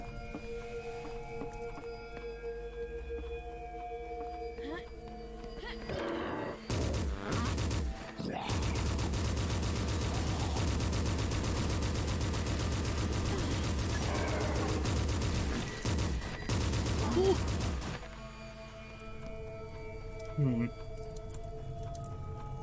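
Heavy weapon fire in the boomer shooter Forgive Me Father: a dense, sustained burst of rapid automatic shots lasting about ten seconds, loud and close, framed by quieter game ambience and scattered smaller sounds.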